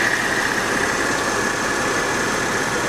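A Porsche 911 Carrera engine idles quietly and steadily at close range, a smooth even hum with no revving and no voices over it.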